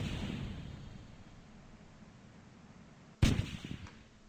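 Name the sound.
retro rockets firing in video game Kerbal Space Program RP-1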